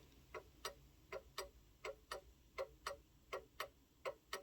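A count wheel mantle clock ticking out of beat: soft, close clicks come in uneven pairs, short gap then long gap, repeating steadily with no talking.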